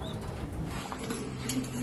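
Imported meat pigeons at a shipping company's premises give soft, low coos amid faint rustling and wing movement, with a steady background hum and no speech.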